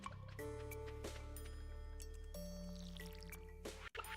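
Crops are watered on a Stardew Valley farm with a series of short watery splashes and drips over a steady game music bed. The splashes come in a few separate bursts, fairly close, and no one talks.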